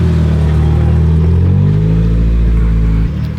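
Porsche 356 engine revving nearby at a car show, a loud, rough, low flat-four drone that rises and holds in pitch before dropping suddenly near the end.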